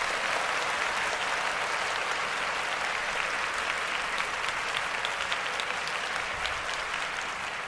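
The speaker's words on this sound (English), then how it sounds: "The crowd goes wild." Dense, steady crowd applause mixed with cheering, a loud wash of many hands clapping that holds evenly for the whole stretch with no voices standing out.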